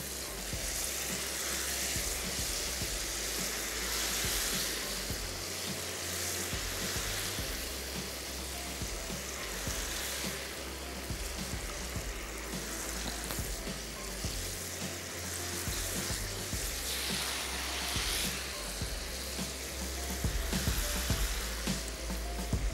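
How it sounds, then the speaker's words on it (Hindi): Firm banana pieces fry in hot oil with a continuous loud sizzle and crackle that stays close and steady throughout, occasional bursts of spattering rising over the hiss. "तेल गरम होना चाहिए और उसमें आपने इसको फ्राई कर लेना है।"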